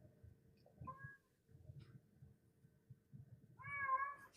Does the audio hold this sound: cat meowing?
yes